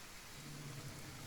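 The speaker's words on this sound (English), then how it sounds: "It is red rain, yes, but it is not acid rain." Red rain falling in the Kenshi game, a steady, even wash of rainfall with a low rumbling undertone, soft and unbroken, with no voices.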